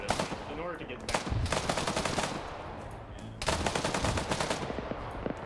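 BTR firing in a combat video game, sustained bursts of rapid heavy gunfire with a brief lull in the middle before another long volley, loud and dense.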